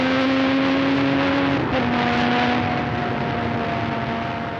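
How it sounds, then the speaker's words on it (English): A Formula 1 race car accelerates hard toward Tamburello at Imola, its high engine note holding strong and steady, loud and close, then fading slightly as it pulls away toward 190 miles an hour. "Warwick accelerates hard, approaching 190 miles an hour by the time he turns into Tamburello"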